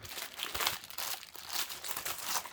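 Plastic packaging of a cross-stitch kit being opened, a close, continuous crinkling and crackling with uneven bursts of rustle throughout.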